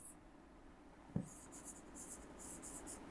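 Pen writing on a classroom board during a lesson on the human excretory system: a sharp tap, then rhythmic bursts of scratchy strokes, fairly faint and close, with no talking.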